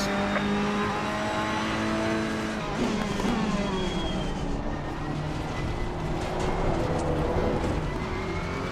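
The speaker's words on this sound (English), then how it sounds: "Tried to get a little too much accelerator before the car was straightened out" A race car engine in Assetto Corsa Competizione drones steadily, then rises in pitch as it accelerates, its harmonic whine shifting through gears, loud and continuous from start to finish.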